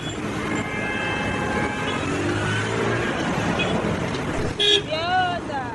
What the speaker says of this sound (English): This is Iyanokpaja bus stop, located on an interstate highway linking Lagos and Abeokuta